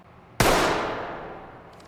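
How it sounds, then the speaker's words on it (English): Single MP5 gunshot in the game Ready or Not, British police setting, one sharp loud crack followed by a long decaying echo tail, no other sounds. "MP5, full chamber of bullets. So, again, single shot, choosing your shots wisely."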